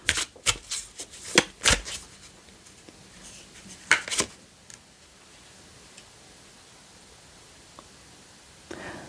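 Tarot cards being shuffled and drawn in a reading, with several quick riffling bursts close up in the first half, a pair of sharp flurries near four seconds, then mostly quiet handling and a last brief rustle.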